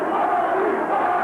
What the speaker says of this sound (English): Crowd vociferously chanting, Gary, Gary.